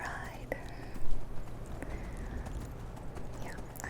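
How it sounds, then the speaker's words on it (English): A horse's hooves clip-clop at a steady riding pace in the video game Skyrim, running continuously beneath a soft whispering voice. "So, hop on my horse, and let's ride."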